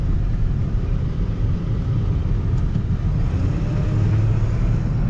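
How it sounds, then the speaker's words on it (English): A turbocharged car engine drones low and steady while climbing a hill under load, a thick rumbling roar heard from inside the cabin, with a faint rising whistle as boost builds. "So let's make some boost going up the hill."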